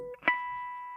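A guitar natural harmonic at the fifth fret rings out as a pure, bell-like tone after a short pluck, sustaining evenly and alone.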